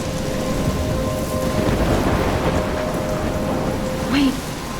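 Steady rain falls through a thunderstorm in the video game Life is Strange, a constant wash of rainfall with low rumbling and a brief brighter sound near the end, with no speech.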